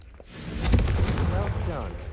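A Confringo fire spell from Hogwarts Legacy goes off as a roaring, broadband blast that swells and holds. A voice speaks over the blast.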